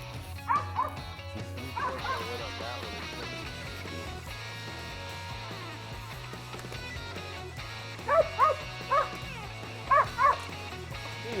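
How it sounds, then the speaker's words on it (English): A hunting dog bays at a treed squirrel in Louisiana woods, a few short barks early on and then sharper yips and whimpers in close pairs near the end, over a steady low hum. "The dog's on a good tree here."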